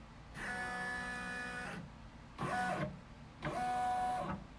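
An embroidery sewing machine stitches a monogram on a beach bag, running corner to corner in three whirring mechanical bursts, one long and two shorter, close and steady with brief pauses between.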